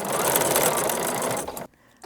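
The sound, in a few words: sewing machine stitching quilt binding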